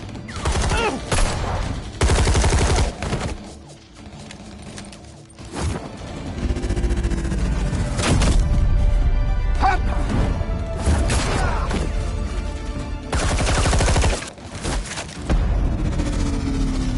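Bursts of gunfire, crashes and explosive booms from a Batman Telltale game fight, loud and repeated across the scene, with voices talking between volleys.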